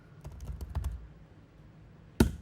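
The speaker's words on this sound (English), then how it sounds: "now we can start a new Nest.js project by typing nest new" A burst of rapid keystrokes on a computer keyboard entering a short command, close and clear, followed after a pause by a single sharp, heavier key press, likely the Enter key.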